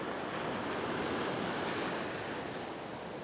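Ocean waves roll onto a rocky shore in a constant, loud wash of surf with some wind buffeting, no talk.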